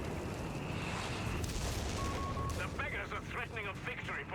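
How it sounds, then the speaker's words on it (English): Distant artillery fire rumbles through a Company of Heroes 3 multiplayer match, a dense, continuous low booming wash with scattered crackling impacts; a voice talks over it. "Yeah, we have some artillery coming in this sector."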